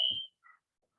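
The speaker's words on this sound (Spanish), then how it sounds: "es una alarma" Alarm beeping at a seminar on human mobility: a loud, high steady tone cuts off sharply, followed by a fainter, shorter second beep, then silence.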